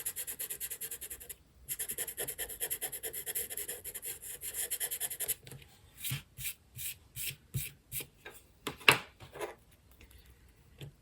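An eraser rubs out pencil on paper in quick back-and-forth scrubbing strokes, first as a continuous scratchy run, then as separate short rubs with pauses between, close up and with no talking.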